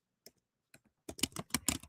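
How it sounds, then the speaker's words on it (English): Typing on a computer keyboard, starting with a few isolated keystrokes and then breaking into a quick, steady burst of clicking keys, close and fairly quiet. "I'm typing them out in the chat so you can see them"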